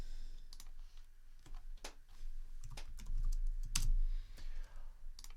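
Keys tap quietly and irregularly on a computer keyboard while numbers are entered into a calculator, the soft clicks coming in short bursts over a faint background.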